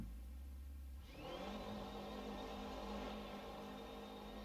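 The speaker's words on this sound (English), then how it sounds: "Bounce it off the rev limiter there" A racing-game RSS GT-M Bayro 6 V8 idles, then revs hard at about one second and holds near the rev limiter, a sustained high whine with a buzzing, bouncing edge, loud and close with no talking.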